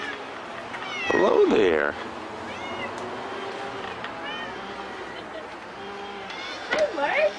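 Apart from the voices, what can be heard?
cat meowing to come in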